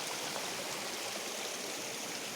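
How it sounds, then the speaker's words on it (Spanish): Mountain stream flowing among rocks in the Aller highlands, a steady close rush of water that fills the whole clip without pause or voices. "vamos a cruzar el arroyo"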